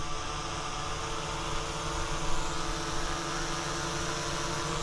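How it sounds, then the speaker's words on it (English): An Autel EVO II 8K drone flies in to land, its rotors making a steady, continuous high-pitched whine and hum that holds at a constant level throughout, with no talking. "here comes that Evo II 8K drone"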